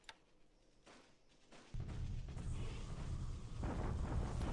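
Naval bombardment in the War in the Pacific strategy game: after a quiet start with a few soft thuds, a deep rumbling barrage suddenly kicks in and keeps rolling steadily, fairly quiet overall, with no speech.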